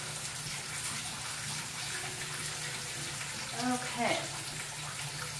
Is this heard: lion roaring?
no